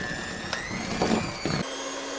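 An electric mixer runs steadily through chocolate brownie cookie batter, a continuous close whirring hum that cuts off abruptly near the end.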